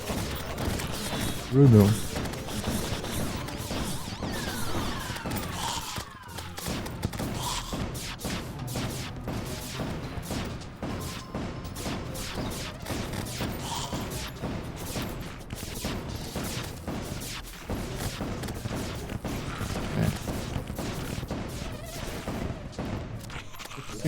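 Gunfire in the video game Terraria, a dense, sustained barrage of rapid shots and thuds running throughout, with someone talking over it.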